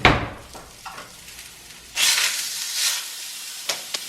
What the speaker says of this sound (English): my breakfast sausage is heating up and the English muffin is almost done